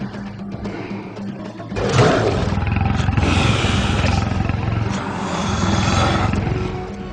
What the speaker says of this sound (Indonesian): Kemarilah macan jelek